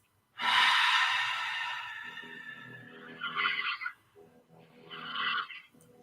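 A long, slow exhale during a guided breathing exercise, a steady breathy rush that fades out, followed by two shorter, softer breaths, close and alone with no talk.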